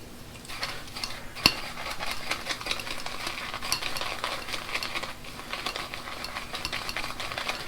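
Shaving brush swirling against a soap puck still in its holder, a steady wet scratchy stirring hiss with soft rhythmic swishes and one sharp click, close and continuous with no speech.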